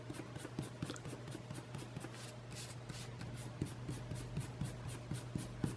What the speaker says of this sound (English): I'm going to erase all my guidelines because I can.